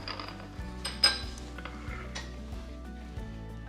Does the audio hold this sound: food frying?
yes